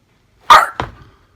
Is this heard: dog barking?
yes